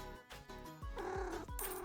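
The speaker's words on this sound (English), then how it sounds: "God, I heard another cat." Cat sounds from the video game Minami Lane, a soft purr and short meows mixed with light game music and chimes, brief and fairly faint.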